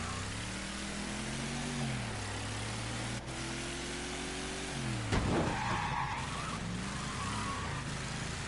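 In Mafia III, a car engine drones loudly and its pitch rises and falls with the gears. Midway, tires screech sharply in a skid while the motor keeps running throughout.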